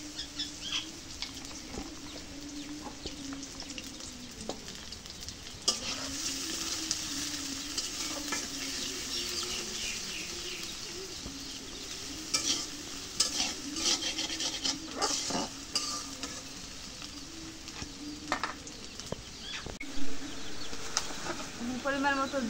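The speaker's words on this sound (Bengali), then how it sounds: "এখন পেঁয়াজ কাটা হয়েছে, এখন তেল দিয়ে দিই।" Chopped onions sizzle and fry in hot oil in a home kitchen, with steady crackling broken by scraping stirs and utensil knocks against the pan throughout.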